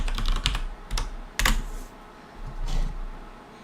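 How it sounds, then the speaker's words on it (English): Someone types on a computer keyboard in a burst of quick key clicks, then a pause, then a few more presses, close and fairly quiet over a low background hum. "I have to type Nulgath."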